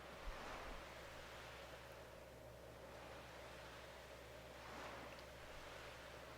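Ocean waves wash onto a beach in the Chrono Cross game, a soft steady surf hiss that swells gently twice, faint and distant, with no voices.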